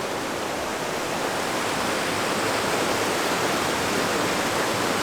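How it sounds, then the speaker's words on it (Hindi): Strong water rushes at Sahastradhara in Dehradun, a dense, unbroken roar of flow that stays loud and close throughout. "ये मेरे पीछे देख सकते हो पानी का बहाव कितना तेज़ है"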